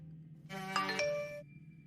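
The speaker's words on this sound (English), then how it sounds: "Out of nowhere, he got a text message asking if they were still on for the date." A text message notification tone, a short melodic chime of a few rising ding notes ringing out briefly over a quiet background.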